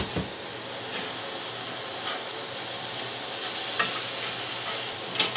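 Ground beef sizzles in a pan with a dense, steady crackling hiss, broken now and then by faint scraping stirs and a louder clatter near the end.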